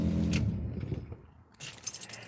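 A set of car keys for a 2020 budget hot rod project jangles up close in a short metallic rattle, then a brighter burst of clinking after a brief lull.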